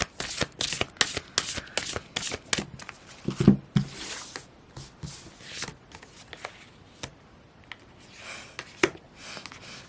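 Tarot cards shuffled by hand for a reading, a run of crisp riffling bursts and soft slaps in quick uneven succession, close and dry, then thinning to scattered light taps.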